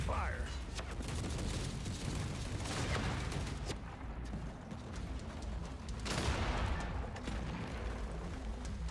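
Gunfire in the video game The Forever Winter: a dense, steady wash of rattling automatic fire and booms, loud and continuous, with a voice talking over it.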